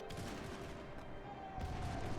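Musket volleys and cannon fire crackle through a strategy video game battle, a dense, continuous rattle of many overlapping shots with heavier booms swelling toward the end.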